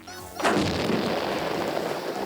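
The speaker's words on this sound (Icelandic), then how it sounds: "Ruslinu skotið út í loftið." Garbage packed into a tube is launched from a firing stand by a released power pin, giving a single sudden loud blast followed by a broad rushing, crackling roar that carries on for about two seconds.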